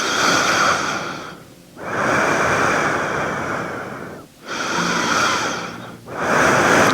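Slow, deep breathing during a gentle prenatal yoga session: long airy inhales and exhales close to the microphone, rising and falling in a steady rhythm with brief pauses between breaths.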